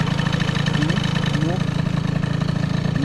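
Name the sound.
small motor engine idling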